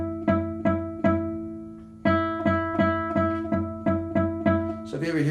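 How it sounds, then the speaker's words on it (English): Guitar note fretted too far over the metal fret, giving a muted tone: a run of repeated plucks on one pitch with a short pause partway, each note decaying quickly, close and clear, ending in a brief scratchy noise. "Now you don't want to go too far over the metal fret or you get a muted sound like this."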